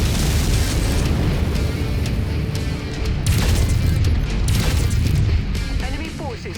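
Destroyed target in MechWarrior 5 blowing up in a series of loud booming crashes and pops over continuous battle rumble, with voices talking over it.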